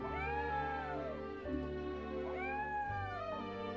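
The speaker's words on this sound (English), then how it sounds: "at your beautiful cats that you have lying around, look at these precious little creatures" Several cats meow in a fantasy strategy video game, long drawn-out calls overlapping one another at close range over a steady sustained game background tone, with no talking.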